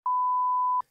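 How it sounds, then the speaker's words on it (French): A single steady censor beep, a pure tone lasting under a second, loud and alone, covers a company name. "Juste mets un bip"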